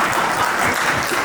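Audience clapping in a dense, steady burst of applause from a crowd at a live talk, loud and close throughout the brief stretch with no voices on top.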